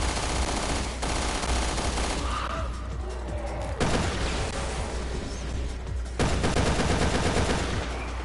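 Dense, continuous video game gunfire in Resident Evil Revelations 2 Raid Mode, loud and sustained with rapid overlapping shots and booming bursts filling the whole stretch.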